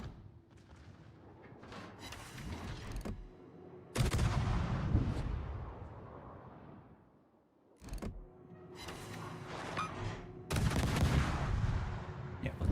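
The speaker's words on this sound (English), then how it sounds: "For some reason, these guns are extremely loud." Ship guns in World of Warships, a run of loud, overlapping naval cannon blasts and booming salvos over about thirteen seconds, with rolling rumble between shots and some abrupt cuts, close and powerful.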